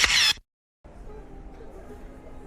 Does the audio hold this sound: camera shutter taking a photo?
yes